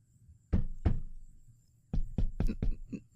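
Hollow knocks on a door in the horror game The Last Door: two spaced raps, a pause, then a faster run of five knocks, close and fairly loud with nothing else around them.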